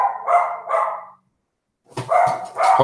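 A dog barks in two bursts of loud, close yaps, a short silence, then two more barks.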